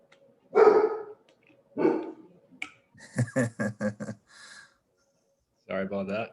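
A guard dog named Bucky barks in a few short, sharp bursts close by, with a quick run of rapid yaps in the middle and longer gaps of quiet between the outbursts.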